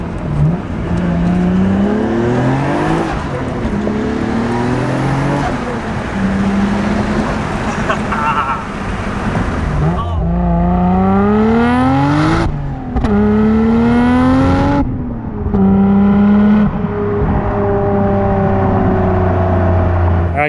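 A midnight purple Nissan Skyline R33 GTR V-Spec twin turbo driving, its engine loudly revving up through rising gear pulls with brief drops between shifts, close and sustained over road noise.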